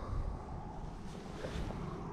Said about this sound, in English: you got a lot of wind, a lot of waves